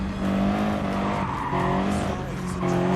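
Ferrari race car in Gran Turismo Sport giving a loud, steady engine drone whose pitch steps up and down through gear changes, with tire squeal layered on top, close and continuous.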